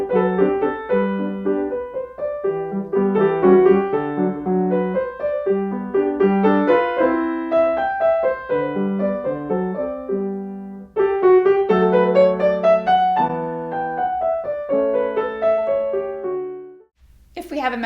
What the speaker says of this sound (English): Today we're talking about how to teach the Beethoven Sonatina in G major, the second movement, the Romanze